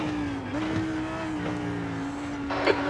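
A race car in an IMSA sim race at Road Atlanta drones steadily throughout, its engine tone holding and shifting slightly, with a brief louder burst near the end as another car closes in.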